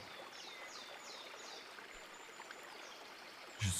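A small stream flows in a steady, soft rush of trickling water outdoors, continuous and fairly faint, with a brief louder knock near the end.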